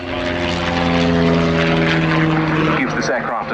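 A de Havilland DHC-1 Chipmunk T10 propeller aircraft drones loudly overhead at an air day at Yeovilton, its steady engine hum shifting pitch as it passes, with a commentator talking over it on a public address.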